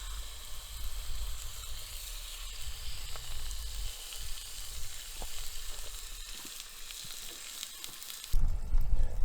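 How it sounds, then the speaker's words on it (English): Meat hisses and sizzles steadily in a hot pan at a low-cost campsite, a broad crackling wash with scattered pops and a louder burst near the end as it is stirred. "Pan's starting to get hot, so in the meat goes."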